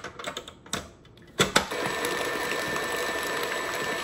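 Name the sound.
electric mixer mixing cheesecake batter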